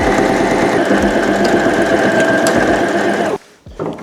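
Sewing machine stitching a quarter-inch seam allowance along a bomber jacket's lining, a loud, steady mechanical whir with a rhythmic needle chatter that stops abruptly near the end.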